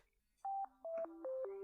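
Phone dialing tones played up to a microphone, a short series of distinct beeping tones in steady succession, each held briefly, fairly faint and without talk.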